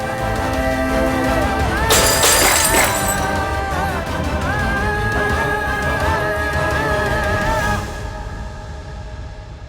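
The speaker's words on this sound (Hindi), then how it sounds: "कांच टूटने की आवाज सुनी ना" Glass suddenly shatters in a short, bright crash with tinkling fragments, near an empty bottle in a domestic drama scene. The break sits within sustained dramatic music that continues after it.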